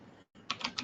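Quick keystrokes on a computer keyboard come close up in a short burst of four distinct clicks after a brief pause, with no talking.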